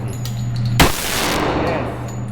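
A Kimber Pro Carry 2 1911 pistol fires at steel plates outdoors: one sharp, loud report with a fading echo over a steady low hum.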